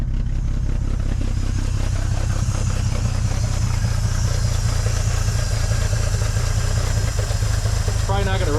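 A 1950 Dodge Meadowbrook engine idles close by, running on little fuel left in the carburetor bowl: a steady, loud, low rumble with a light mechanical clatter that holds evenly throughout, with a voice briefly audible over it.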